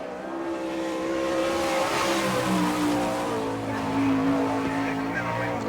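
Sprint car engine roaring around a dirt track at an All Star Circuit of Champions Winternationals event in Gibsonton, Florida, a steady loud drone with rising and falling pitch as the car laps, under a track announcer's voice.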